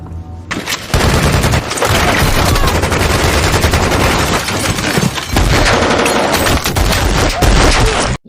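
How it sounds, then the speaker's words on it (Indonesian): Relentless heavy-weapons gunfire from a crowd of gangsters in a crime film, loud sustained bursts of machine-gun fire and overlapping shots with booms, running almost continuously after a brief quieter opening. "ratusan anggota gangster langsung menghujani mereka bertiga dengan berbagai macam senjata berat yang tiada henti dan tiada habisnya"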